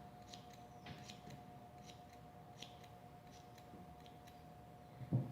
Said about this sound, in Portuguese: A gente vai cortar o excesso dessa lã.